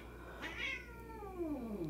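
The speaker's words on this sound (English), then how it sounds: "Ignore my cats." A house cat's single drawn-out meow, rising then sliding down in pitch, close and clear over a low steady background hum.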